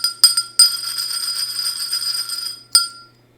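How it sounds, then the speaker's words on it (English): Bell rung three times, each a bright metallic strike, the middle one sustaining a clear ringing tone for about two seconds before a final short ding fades out. "I will ring the bell, though."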